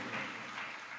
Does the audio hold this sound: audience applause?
yes